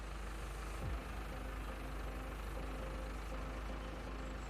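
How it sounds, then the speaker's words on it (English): A Farming Simulator 22 tractor engine hums in a steady low drone at a constant pitch, with a brief falling whine near the start and no talk. "I'm going to try and use this tractor to move this pile across"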